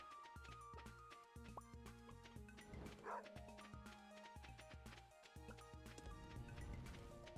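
Chance, a dog in Stardew Valley, gives short game-style barks and yips over steady looping background music, with one brief louder burst midway.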